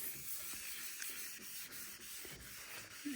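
A sponge sanding pad worked in circles over the body of a 1969 Datsun 2000 Roadster, giving a steady, close abrasive rubbing with soft periodic swells and no talk.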